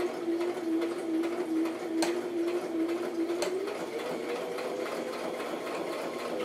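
A sewing machine stitching a handbag with a tight stitch, running in a steady close whirring hum with a couple of sharp clicks, uninterrupted and without talk.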